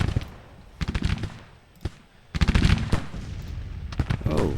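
Bursts of musket and rifle fire from a battle in the Civil War strategy game Grand Tactician, with ragged volleys of sharp cracks and booms at varying distances, some clustered into rapid rolling fusillades, others isolated, loud throughout.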